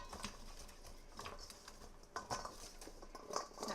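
A hand mixing cut potatoes with olive oil in a bowl: soft, wet, irregular squishing and light clinks and taps, close and fairly quiet, with no one speaking.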